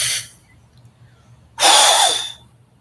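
Agnisara yoga breathing: a short breath tapering off, a pause, then one long, loud, forceful exhale through the nose and mouth, close up, with no talking.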